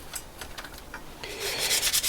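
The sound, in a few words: rubbing down Kawasaki GTR 1000 parts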